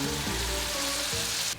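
Tomatoes dropped into a hot pan of crispy pancetta with reduced wine over high flame, giving a steady close sizzle and crackle that cuts off abruptly at the end.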